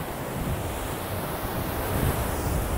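Ocean surf washing steadily onto a beach, a continuous broadband roar with some wind buffeting the microphone, fairly loud and unbroken throughout.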